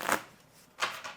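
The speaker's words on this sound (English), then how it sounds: "I'm going to go ahead and shuffle my vegetable cards" Vegetable cards from the board game Mr. Cabbagehead's Garden shuffled by hand, two quick riffling bursts close up separated by a short pause, with no voices.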